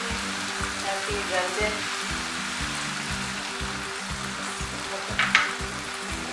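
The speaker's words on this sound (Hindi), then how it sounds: "अब इसमें थोड़ा सा पानी डलवा देते हैं ताकि गल जाए" Chicken mince with potatoes, peas and vegetables sizzling in a pan as water is poured in: a steady, close frying hiss with soft stirring knocks underneath and a brief brighter splash near the end.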